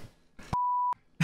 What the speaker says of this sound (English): I was reaching for the buzzer